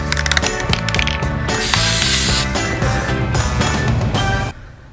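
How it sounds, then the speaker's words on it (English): A can of bronze spray paint rattles with its mixing ball and then hisses out in a loud, close burst lasting under a second, followed by more clicking and handling noises before cutting off. "these ones I'm gonna spray paint with"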